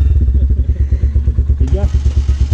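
A motorcycle engine idles with a steady chugging pulse, then the throttle is opened and it revs up near the end, with people talking over it.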